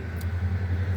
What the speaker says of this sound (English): Traffic.